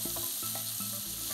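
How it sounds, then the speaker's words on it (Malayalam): Cauliflower fries in a pan with turmeric and ginger-garlic paste, giving a steady, fairly quiet sizzle broken by regular soft scrapes and low rumbles of stirring, with no talking. "ഈ കോളിഫ്ലവർ നല്ല അസലായിട്ട് ഒന്ന് വറുത്തെടുക്കുക."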